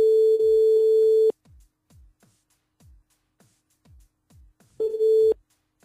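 A telephone line tone from a radio call-in show sounds in two loud steady bursts, one at the start and another near the end, with a regular series of soft clicks ticking in the quiet between them.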